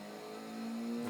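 A car in Forza Motorsport 6 accelerates with a steady engine drone rising gradually in pitch and loudness, fairly quiet and continuous, with no voices.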